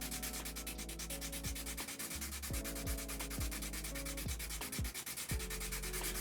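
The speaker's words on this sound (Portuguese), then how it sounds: "Então você lixa de um lado assim, sempre no mesmo sentido." Sandpaper rubbed steadily over an aluminium surface being prepared for a strain gauge, a continuous close gritty scrape with regular strokes, under a faint droning hum.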